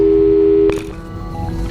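A steady telephone busy tone in the Portal 2 video game holds for under a second, then cuts off with a click and a brief hum.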